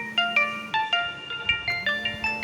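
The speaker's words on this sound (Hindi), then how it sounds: "सर फ़ोन आ गया किसी का" A phone ringtone chimes a bright, repeating electronic melody of short, evenly spaced notes over a low steady tone, clear and fairly close, with no talking.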